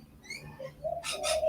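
Rainbow lorikeets visiting a seed tray give a burst of loud, harsh screeching calls in the second half, following softer chirps and bird calls, close by and with no talking.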